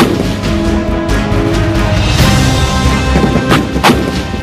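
Indian Army artillery guns, including K9 Vajra howitzers, fire at the Mahajan field firing range in the Bikaner desert: heavy booms and thuds over a dense rumbling background, with several sharp blasts near the end.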